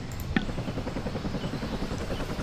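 The rotor of a helicopter in the Vietnam 65 video game beats with a low, steady, rhythmic thump that continues faintly throughout.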